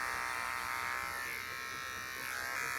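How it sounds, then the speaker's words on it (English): An electric razor buzzes steadily and close while shaving a person's head, its tone shifting slightly as the clippers move across the scalp, with no talking. "I am literally shaving my head right now"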